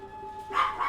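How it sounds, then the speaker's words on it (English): A real dog barks once or twice in a short, close yelp over faint background hum, heard during a Total War Rome II gaming session. "I tried stopping that. Got a couple barks off."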